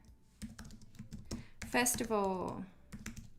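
Quick bursts of clicky keystrokes on a computer keyboard come in uneven runs during a logo design session in Illustrator, close and soft, while a person speaks over the tapping.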